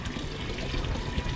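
Water runs steadily into a tub holding 500 grams of caustic soda, a continuous rushing, splashing flow heard close up with no one talking.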